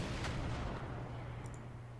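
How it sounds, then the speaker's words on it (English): Heavy bombs, including 2,000-pound bombs, detonating in the Desert Storm campaign of the military simulation game Command: Modern Operations, a dull low rumbling blast with a muffled thud early on, steady and fairly loud, no voices. "More bombs away."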